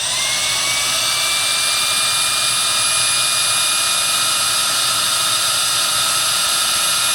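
An LG Cordzero A906 cordless vacuum runs on its high setting, a loud, steady, high-pitched motor whine that climbs slightly at first and then holds constant, close and uninterrupted.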